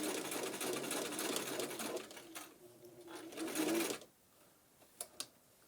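A sewing machine stitches a fabric face mask in a close, fast whirring run that stops abruptly, then gives a few brief clicks and taps.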